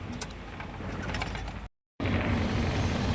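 A 6M70 truck diesel engine with injector faults runs rough, a dense clattering, knocking idle heard close up, cut by a brief dropout before resuming just as loud.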